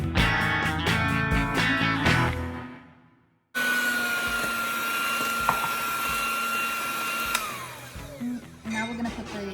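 Electric mixer whirring as sugar goes into eggs for carrot cake batter, a steady high motor whine that cuts off, then restarts and runs on continuously up close.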